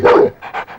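A dog named Johnny barks loudly and close, one big bark followed by a few shorter, softer yelping barks in quick succession, with no voices over it.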